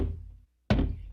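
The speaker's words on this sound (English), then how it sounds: "The next day there was a knock on the door." A single dull knock on a door, a sharp thud that rings briefly after a short silence, following a low rumbling murmur of background sound.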